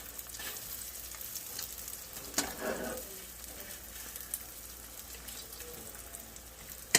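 Meat browning in a hot pan, a steady hiss of frying that runs under the whole stretch, with a few louder crackles and pops breaking through.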